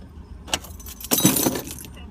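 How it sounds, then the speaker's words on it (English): Car keys jangle briefly as they are set down on a car's dashboard during a Massachusetts traffic stop, a short metallic rattle at close range with a second, louder jingling burst. "Shut your car off. Put the keys on the dashboard."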